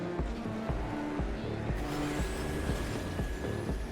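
Racing video game car driving across a lap with hard jumps, a steady engine drone with rhythmic thumps and tonal layers, continuous and fairly loud throughout.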